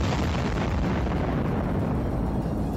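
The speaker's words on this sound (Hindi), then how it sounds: "ये बारूदी सुरंगें इतनी खतरनाक थीं कि नष्ट करने पर जबरदस्त धमाका हुआ" A landmine being destroyed in a controlled detonation in Ukraine, heard as one continuous powerful explosion roar, loud and dense throughout with deep rumble, then cut off abruptly.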